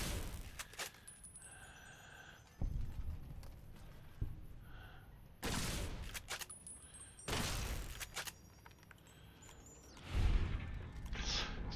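Gunfire from a weapon in the video game Fallout New Vegas: several loud broadband blasts in separate bursts, each ringing briefly, alongside game ambience and faint voices.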